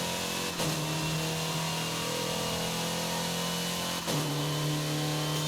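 Car engine in Forza Horizon 5 holding a steady droning rev, broken twice by quick gear shifts where the pitch drops and climbs again, loud and close with no talking.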